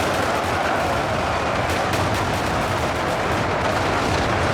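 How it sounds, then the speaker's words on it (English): Dense, continuous massed gunfire from German soldiers on a bridge in the battle game UEBS 2, loud crackling volleys overlapping without pause across several seconds, no voices. "the German soldiers are quickly taking positions on the bridge to shoot the approaching enemy"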